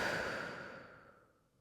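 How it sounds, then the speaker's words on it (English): A slow, soft exhale during a yoga session, a single airy breath out that fades gradually over about a second and a half, heard close and quiet. "Take a breath out."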